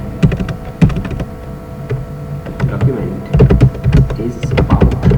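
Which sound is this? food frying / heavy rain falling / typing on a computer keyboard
typing on a computer keyboard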